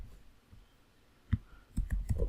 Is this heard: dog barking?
no